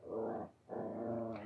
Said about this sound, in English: My dog takes this moment to scratch her back on the carpet, and she's just making all sorts of noises while she does it